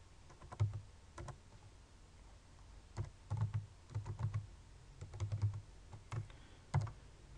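Close, crisp keystrokes on a computer keyboard while an R install.packages command is typed, coming in irregular quick bursts and short clusters with brief pauses between, with no voices.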